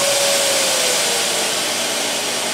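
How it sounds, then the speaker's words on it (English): Festool CT-36 dust extractor vacuum running at full power, connected to a sander, giving a steady loud broadband hiss and roar with a faint tonal whine, continuous and close. "I'll turn the vacuum all the way to the top"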